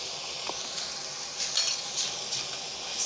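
Minced chicken sizzles in a pan with soy sauce and lemon juice, a steady bright hiss with a few louder crackling bursts, close and without talk.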